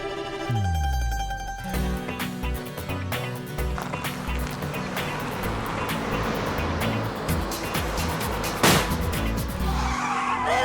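A car skids with a burst tyre: a sharp bang and low thump open a long rough scraping skid with gritty rattling and a sudden loud crack near the end, all up close with no talking.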